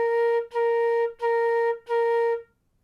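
Four evenly spaced flute notes on B-flat, each held and cleanly separated, played alone with the last one fading into silence.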